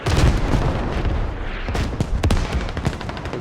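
Rocket strike explosions land on a mosque in the video game Squad, a dense run of heavy booms and crackling blasts with several sharp impacts late on, loud and sustained throughout.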